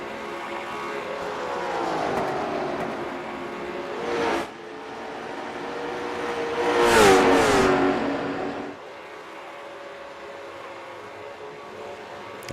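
Late model stock cars racing at Richmond, loud engines roaring and rising in pitch as cars pass close by in a couple of swelling waves, then fading to a steadier distant drone.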